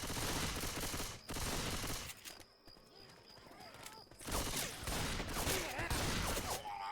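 Shotgun fire in a video game, loud booming bursts at the start and again after a quieter gap, with a voice talking over the action.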